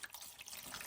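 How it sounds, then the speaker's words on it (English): Evaporust rust-remover liquid poured into a container over old tools, a close, steady splashing trickle that runs without pause for under a second. "So I'll pour a little Evaporust in there, just enough to get over."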